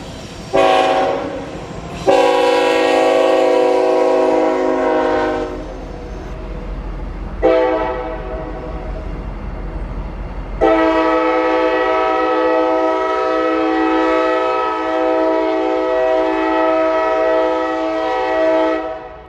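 Two railroad locomotives pass on a Northeast Georgia line. Their horn sounds loud and near in several long blasts, short ones first and then one sustained blare, over a rumbling engine and wheels.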